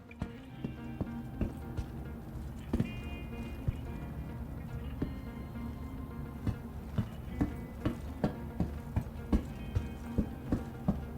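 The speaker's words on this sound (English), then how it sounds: "My footsteps in my own ears always sound so loud" Loud footsteps in a game: a steady run of heavy, evenly spaced steps that grows more regular and prominent toward the end, over a humming background.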